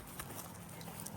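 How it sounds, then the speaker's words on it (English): A pack donkey carrying gear on a long walk clip-clops faintly, with a few soft hoof taps over low outdoor background noise. "And then I got my donkey right here, carrying my shirt and anything I need."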